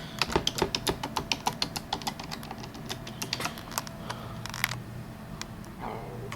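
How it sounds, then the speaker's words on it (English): Rapid clicking of keys on a computer keyboard as numbers are typed on a Power Mac G4 Cube setup, a quick burst of close taps that slows into sparser presses, with no talking. "I'm going to type in the numbers"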